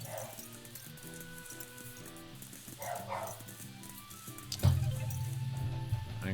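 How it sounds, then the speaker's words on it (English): A pet dog barks repeatedly somewhere in the house, heard over the music and effects of the video game Fungal Colony Sim 2 playing in the foreground. "dog's just barking for absolutely no reason"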